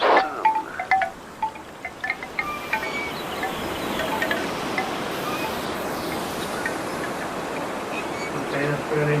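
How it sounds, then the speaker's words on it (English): Steady rushing wind fills a VR scene about weather and blindness, a broad windy roar with a few soft clicks and chirps scattered at the start, continuous and fairly loud throughout. "hold the trigger to create wind and reveal the scene"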